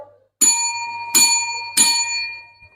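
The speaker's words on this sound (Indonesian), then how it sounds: "Kedua, akan ada bel." A bell rings three times in an even sequence, loud and close, each strike ringing on with bright sustained overtones; it marks the end of a timed trial session in a classroom setting.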